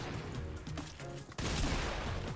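Gunfire in the Fortnite video game crackles faintly in bursts, then a denser volley of shots kicks in, quiet and mixed with game sounds.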